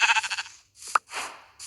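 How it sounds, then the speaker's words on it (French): A sheep bleats in a survival video game, with a loud wavering call up front and shorter bleats after short gaps. "On va aller tabasser le mouton."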